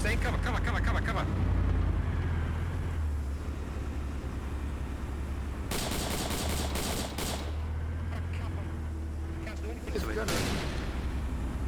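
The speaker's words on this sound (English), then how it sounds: "Fucking APC coming down the main road, west." An armoured personnel carrier with a crew gunner rolls down a main road in a military video game, its engine rumbling low under repeated bursts of heavy gunfire, with someone talking over it.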